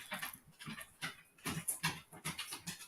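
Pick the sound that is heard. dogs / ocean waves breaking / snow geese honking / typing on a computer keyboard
dogs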